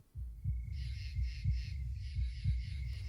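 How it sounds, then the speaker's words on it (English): Slow, steady heartbeat thumps from the video game Heartworm, about two beats per second, deep and muffled over a faint electronic hum with a high ringing tone, with no voices present. "you can hear the heartbeat now, too"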